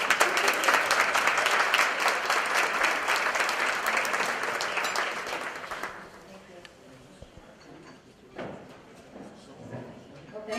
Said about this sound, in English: And with that, we applaud her.